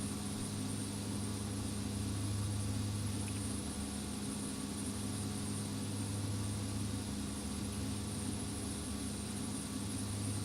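A steady, faint, continuous drone of a King Air C90 turboprop in X-Plane 11, an even engine hum with no change over ten seconds and no voices.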